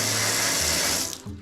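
Shower in a small Soviet apartment running at full flow: a steady, loud hiss of spraying water close by, which drops off abruptly near the end before a brief gurgle.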